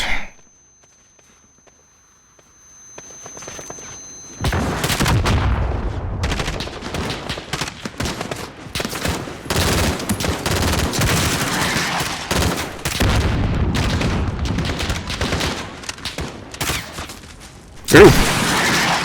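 Heavy gunfire in the video game Call of Duty: after a near-silent opening, loud sustained bursts of automatic and rapid shots rattle on for over ten seconds, with a sharp blast near the end and some faint voices mixed in.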